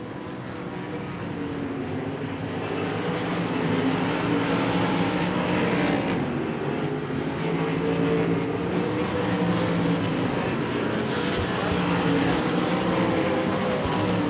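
Race cars at Devils Bowl Speedway on an oval track, a continuous loud engine roar from several cars at racing speed that swells slightly and holds steady, with no voices.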